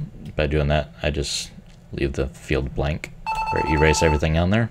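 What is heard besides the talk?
mobile phone ringing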